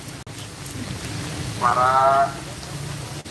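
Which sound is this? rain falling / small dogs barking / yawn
rain falling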